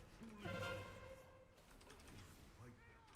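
A pigeon-like bird coos in a video game, soft repeated hooting notes rising briefly near the start and again toward the end, faint beneath game sounds and a talking voice.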